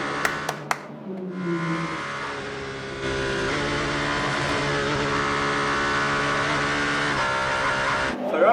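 A Ferrari race car in a WEC race screams past with a loud, sustained engine note that climbs through the gears, holding a high whine for several seconds before cutting off abruptly, after a few sharp clicks at the start.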